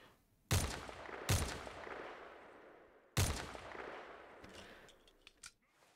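Three sharp gunshot bursts from a video game weapon, each a loud crack that decays into a lingering tail, followed by a few fainter mechanical clicks near the end.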